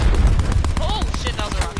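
Gunfire and explosions in a Call of Duty match with friends, a dense run of sharp cracks and thumps including a rocket blast, loud and close, under overlapping talk.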